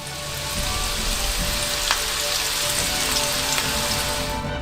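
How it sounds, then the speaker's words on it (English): Onion rings coated in a thin layer of flour breadcrumbs hit preheated oil and fry in a steady, dense crackling sizzle, loud and close, with a few brief sharper pops and no talking. "We immediately send it to the preheated oil."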